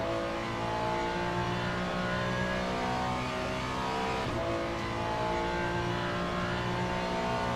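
LMGT3 race car engine in the sim game Le Mans Ultimate, a loud, steady, close onboard drone that holds a high, constant pitch throughout with no talk.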